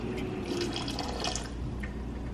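White cooking wine splashes and trickles into simmering pasta sauce, a steady wet pour with soft gurgling, close and moderately quiet.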